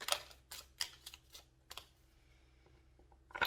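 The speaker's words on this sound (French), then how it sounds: "J'ai du mal à battre ces cartes." Tarot cards being shuffled by hand, a series of sharp, irregular clicking and riffling snaps close to the microphone, with quiet gaps between bursts.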